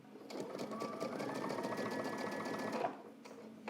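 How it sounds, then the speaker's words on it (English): A sewing machine runs steadily for about three seconds, stitching lining along the welt line of a trench coat, with a quiet stop and faint handling afterward. "I go ahead and I stitch. Be sure to backstitch at the beginning and also at the end."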